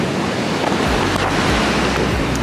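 Ocean waves roll and crash steadily on a beach in Bali, a loud, continuous surf wash with gusts of wind buffeting the microphone and no voices.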